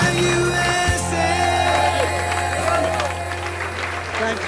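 A big outdoor crowd at an Honor Flight welcome event claps and cheers, a broad wash of applause that rises and fades under a loud amplified voice and a trailing patriotic song.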